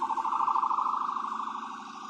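An emergency siren wails steadily at a street protest as fire department and ambulance vehicles arrive, a rapid warbling tone that holds fairly loud and slowly fades slightly toward the end.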